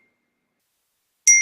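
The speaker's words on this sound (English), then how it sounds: "Yes, the notifications were going off." A phone text message notification chimes once after silence, a bright ringing ding that sustains and fades slowly, close and alone.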